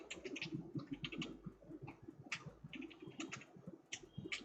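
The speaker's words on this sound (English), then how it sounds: "I'm typing that out for you." Typing on a computer keyboard, a close run of quick, irregular key clicks with brief pauses between bursts.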